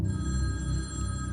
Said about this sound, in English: I heard a phone ringing from somewhere in the house